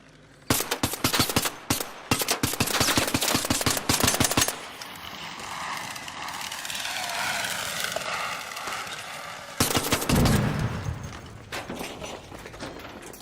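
Rapid automatic gunfire in the shooter game ARC Raiders rattles out in loud, tightly spaced bursts, broken by a stretch of roaring, swirling noise before another burst of shots.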